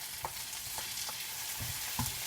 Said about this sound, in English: this is a medicinal oil that I'm actually frying it up with.